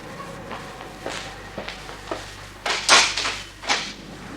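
Someone opens a house door late at night after a knock, heard as a series of soft wooden clicks, creaks and shuffling bumps, with a louder rattling latch near the end and no voices.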